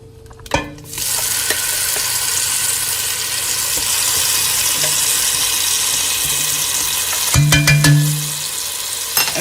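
Homemade epis seasoning fries in hot oil in a pot, a steady broadband sizzle running throughout, with a couple of stirring scrapes and clatters near the start and again toward the end.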